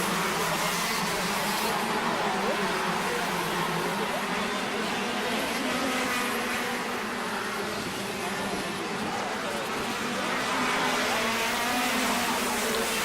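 A race car on a circuit's far straight drones with a steady, distant engine roar that swells slightly and fades, under faint commentary.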